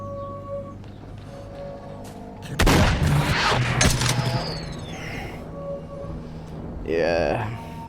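Gunfire in S.T.A.L.K.E.R. erupts as a loud cluster of booming shots over about a second and a half, then trails off into rumbling echoes, with a later sharper burst amid steady in-game ambience.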